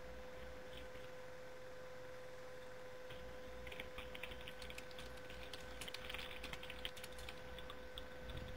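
Quiet typing on a computer keyboard, with sparse scattered taps at first and then denser bursts of rapid clicking in the later half, over a steady faint hum.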